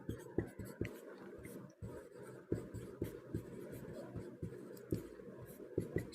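An answer to a Class 10 math problem being handwritten with pen on paper, a close, quiet run of quick scratchy strokes and taps in an uneven rhythm, with no voices.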